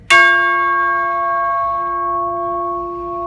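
A tuned metal chime tube pitched at C sharp is struck once, giving a sharp metallic attack and then a clear, bright ring that sustains evenly with little decay.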